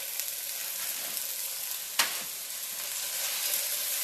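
Frozen carrots and green beans sizzle with onion in a frying pan, a steady close hiss with one brief louder crackle partway through, no voices.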